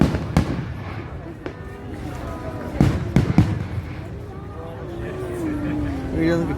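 Fireworks burst at a Swiss National Day celebration in Switzerland, with loud, sharp booms and crackles spread across the scene and a rising whistle near the end, as a crowd murmurs and people talk nearby.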